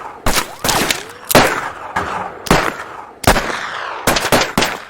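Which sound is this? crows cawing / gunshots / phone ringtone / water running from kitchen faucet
gunshots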